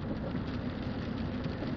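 Steady rain falls in a continuous, even hiss with a low rumble underneath, close and unbroken for the whole short stretch, no voices.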